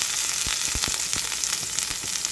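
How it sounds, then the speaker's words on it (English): Seasonings dumped into hot coconut oil in a pot give a steady, dense sizzle with faint stirring clicks. The frying is close and continuous, and nobody speaks. "dump all of your seasonings into the hot oil"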